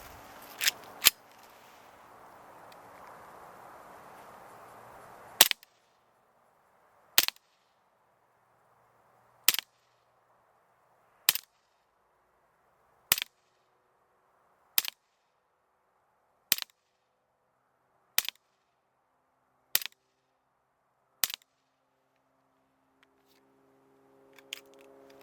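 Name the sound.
Umarex H&K USP BB pistol firing 10 rounds at target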